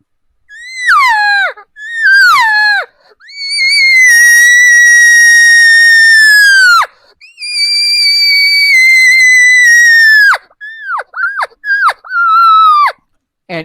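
A human imitating a cow elk's regathering mew call: a series of loud, high, whiny mews, some short and some drawn out for several seconds, each falling off at the end, close and alone.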